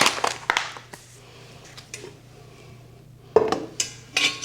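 Dishes clattering and scraping as they are cleared into a trash can, a few sharp clinks and knocks separated by quieter pauses, close by with no talk.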